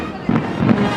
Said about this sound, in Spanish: empieza a echar estos cohetes, estos fuegos de pirotecnia